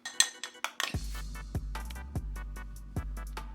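A utensil clinks and scrapes against a bowl while hair dye is mixed, with a few sharp taps followed by a steady series of evenly spaced clinks and a low hum beneath.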